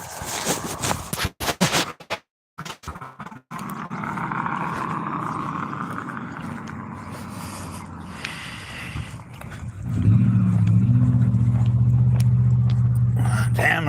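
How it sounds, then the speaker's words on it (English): Steady broadband road traffic passing outside in the morning, a continuous mid-level wash of tires and engines with a louder, deeper vehicle rumble swelling up close toward the end; brief faint voice at the start. "Damn, there's a lot of traffic out."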